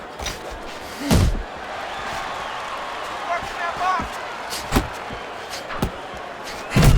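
Punches thud home in a Fight Night Champion boxing simulation between Brian Norman Jr and Devin Haney, several sharp impacts spaced irregularly over a steady crowd murmur, with commentary running throughout.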